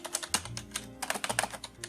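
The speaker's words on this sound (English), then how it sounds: "I'm speaking as well as I'm typing right now." Fingers type on a computer keyboard in quick, uneven bursts of close, crisp key clacks, with no voices.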